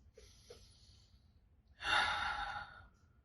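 A deep breath: two faint soft intakes are followed by a long, fairly loud exhale, close and breathy, with no talking.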